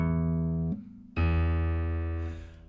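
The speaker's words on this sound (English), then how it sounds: "And then I play the same note on the piano." A low E note struck on a piano rings out loudly and sustains for over a second while slowly fading, following the tail of an earlier note, with no voices.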